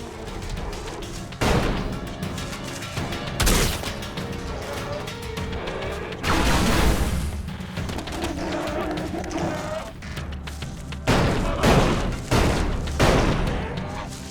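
Ranged weapon gunshots in the video game ELEX ring out as several loud, separate bursts spaced a few seconds apart, over a steady game background.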